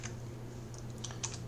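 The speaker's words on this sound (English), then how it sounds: "I'm just using my keyboard on my computer" Brief typing on a computer keyboard while entering an equation into an online graphing calculator, a few soft, scattered key clicks over a low steady hum.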